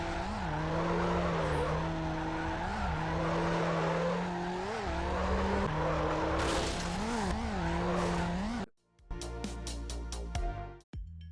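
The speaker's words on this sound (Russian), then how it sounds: "сейчас меня смущает дрифт на переднеприводном Honda Civic" Front-wheel-drive Honda Civic drifting in NFS Underground: a loud, steady engine drone with repeated rising tire squeals through most of the stretch, then an abrupt cut to choppy, stuttering game sounds near the end.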